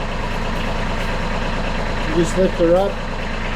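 A Kubota B2301 compact tractor idles steadily with a low, even diesel rumble, while someone talks briefly over it and a hydraulic whine rises near the end.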